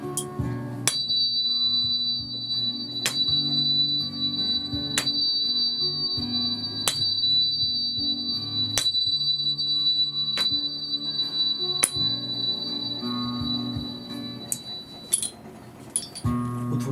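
Tuning fork in the key of D gives a thin, steady high tone, re-struck with sharp regular pings about every two seconds over gentle low music, no talking.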